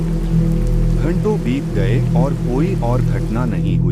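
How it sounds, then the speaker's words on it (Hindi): A storm with steady rain outside, heard as a constant wash of rain noise and low rumble beneath a person talking throughout. "बस बाहर तूफान की आवाज सुनाई दे रही थी"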